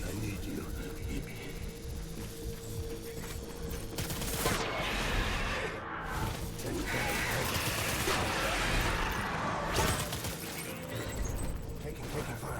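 Gunfire in the game Death Stranding, with dense bursts of rapid shots and crashing impacts building midway, mixed with a voice and music.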